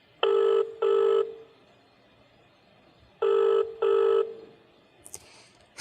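A telephone rings while calling Ganga, two double-burst rings separated by a pause, loud and clear over quiet background, followed by a brief click.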